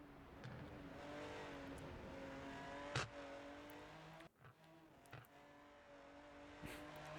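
GT4 race car engine in the RENNSPORT racing game on the Nordschleife, a sustained high droning whine with shifting revs, a few sharp gear-change blips and a brief dip, heard on its own.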